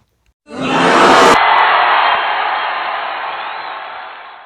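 Wrestling arena crowd at a Survivor Series show erupts suddenly into a loud, sustained roar of booing and shouting that holds steady, then slowly thins.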